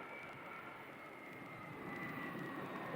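A UPS cargo plane taxis at a Dallas airport, a faint, distant jet-engine rumble and whine that swells slightly toward the end with no talking.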